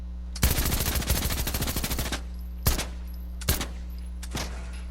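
A machine pistol in Fortnite fires one long rapid burst up close, then three more single sharp shots spaced apart, all over a steady low game hum.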